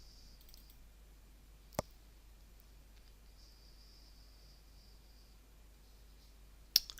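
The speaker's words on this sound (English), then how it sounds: "Click on the Data tab." Two sharp, isolated computer mouse clicks in a quiet room, one early and one near the end, with faint background hum between them.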